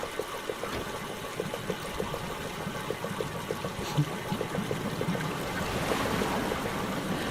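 Flowing water in the Myst remake runs continuously, with a steady rushing wash dotted by small repeated splashes and an underlying low hum.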